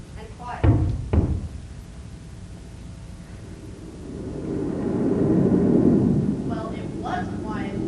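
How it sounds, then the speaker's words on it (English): Rolling thunder from a thunderstorm sound effect in a school stage play, with two sharp cracks early on, a long swelling rumble building through the middle, and brief voices near the end. "This ever-present thunderstorm is really getting on my nerves."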